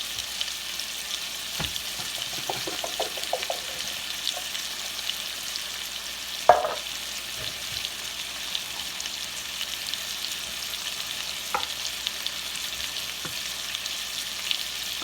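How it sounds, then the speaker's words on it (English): Bacon browns in a hot pan with a soft continuous sizzle and crackle, a few sharper pops and clinks of a utensil stirring now and then, no voices. "we're just gonna brown our bacon until it gets nice and crispy"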